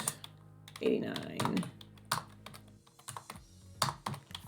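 Numbers are keyed in on a computer keyboard in quick, uneven bursts of close, crisp clicks while someone talks over the typing.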